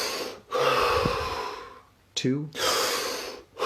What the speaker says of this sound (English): Take 3 deep breaths